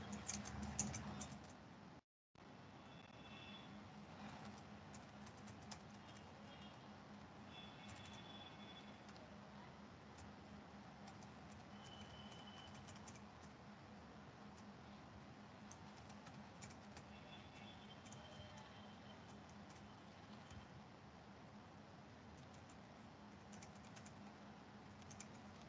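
Steady, continuous clatter of typing on a computer keyboard at close range, with fast irregular key taps running throughout and a brief silent gap near the start.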